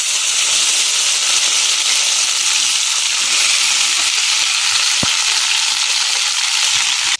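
Pirandai (adamant creeper) frying in a pan of sesame oil, giving a loud, steady sizzle and hiss with no pause, broken only by one small click near the end.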